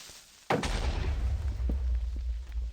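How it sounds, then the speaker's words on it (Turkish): Minecraft creeper explosion in a hardcore survival world: a sudden loud boom at about half a second, followed by a long rumbling, crackling tail that stays loud for the rest of the clip. "Şu creeper patla bir sen."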